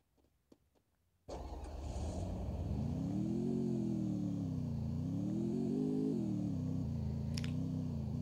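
A motorcycle engine in the video game Free Fire starts abruptly after near silence, then holds a steady low rumble with gentle rises and falls in pitch as it revs, loud and continuous with no talking.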